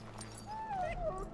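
A sick dog whimpers in the fantasy role-playing game Dragon Age: Origins, a thin rising and falling whine over a low background hum, faint but clear, with no talk.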